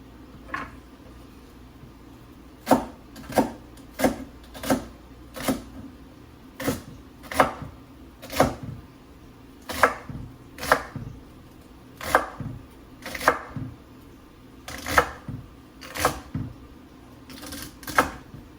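A knife chops celery for soup on a cutting board, giving a steady run of crisp, evenly spaced chops close up over about eighteen seconds, with no talking.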